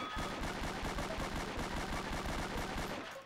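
Rapid, continuous gunfire from a Beretta M9 pistol in the Roblox game Emergency Response: Liberty County, a dense rattling string of loud shots lasting about three seconds with no gaps.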